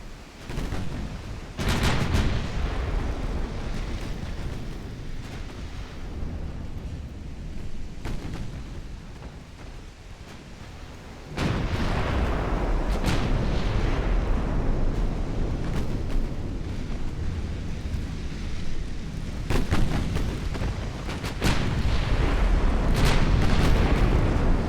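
Heavy naval gunfire in the warship game Ultimate Admiral: Dreadnoughts, with deep booming salvos and explosive hits, a few sharp blasts over a continuous loud rumble of battle.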